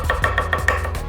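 A knife chops garlic cloves and fresh thyme for a chicken marinade, a quick, even run of about five close, crisp taps against a cutting board with no talking.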